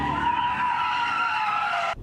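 Car tires screech loudly and continuously as a car drifts during an illegal street takeover, a sustained high squeal with engine roar beneath that cuts off sharply near the end.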